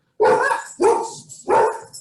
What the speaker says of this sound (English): Is that Kris's dog or yours, Heather?